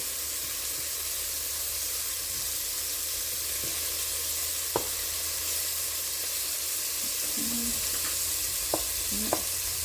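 Floured beef pieces for stew sear in a hot pan with a constant hiss and sizzle, punctuated by a few scraping clicks as pieces are turned over.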